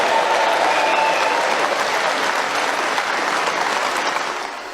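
A large crowd at a political speech claps and cheers loudly and continuously, the applause fading slightly toward the end.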